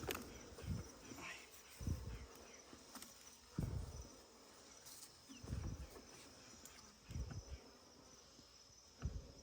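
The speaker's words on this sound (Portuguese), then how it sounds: "tem bastante abelha aqui, pessoal" Honeybees in a hive inside a tree trunk give a faint steady buzzing hum, with occasional soft knocks and bumps over the quiet background.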